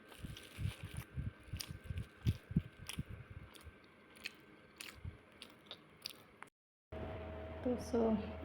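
Close, wet biting and chewing of Sylheti puri in a run of crunchy, squishy bursts that quieten after a few seconds. A brief silence follows, then a steady, louder background hum.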